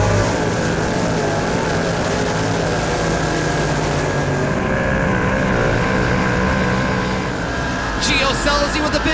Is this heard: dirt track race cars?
yes